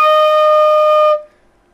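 A B flat marching flute holds one clear, even low F note for just over a second, then falls silent.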